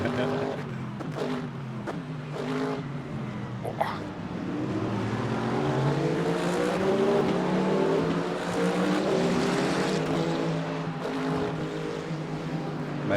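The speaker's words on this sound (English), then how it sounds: "This is my first experience being overtaken by hypercars." Hypercars sweep past in the Le Mans Ultimate sim racing game on the COTA circuit, a rising and falling engine roar swelling over the player's own steady engine drone, with no talk.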